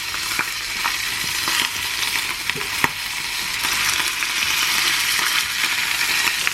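A huge piece of meat sears in a hot pan with a loud, continuous close-up sizzle, dotted with sharp pops and crackles of spattering fat, no voices.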